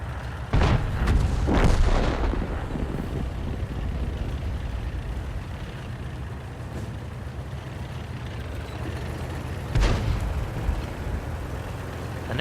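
Heavy artillery fire in World of Tanks booms out in a few deep, loud blasts, with a steady low engine rumble filling the gaps between the shots.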